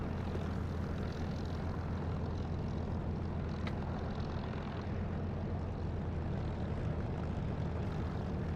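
A simulated aircraft rolls along the ground in a combat flight sim, its steady low engine drone and rumble continuous and loud throughout, with no talk.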